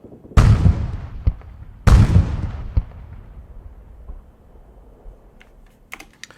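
Artillery tanks fire in the military game Arma 3: two loud, close booms about a second and a half apart, each trailing into a long rumbling decay, followed by a few faint clicks.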